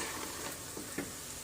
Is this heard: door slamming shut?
no